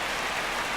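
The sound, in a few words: rain in video game MLB The Show 26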